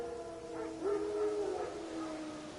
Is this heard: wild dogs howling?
yes